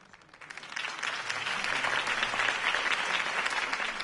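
Crowd applause for a campaign speech in the Telltale Batman video game, dense steady clapping that swells in over the first half-second and holds loud and even to the end.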